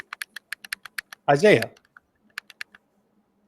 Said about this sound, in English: You're clicking aggressively over there, my guy.